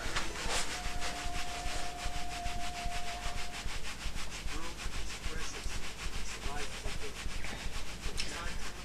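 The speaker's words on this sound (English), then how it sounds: "rub the hands together and give the lower back a rub" Hands rubbing together and then rubbing the lower back during a T'ai Chi exercise, a steady, close, brisk swishing friction that repeats rhythmically for several seconds with no talk.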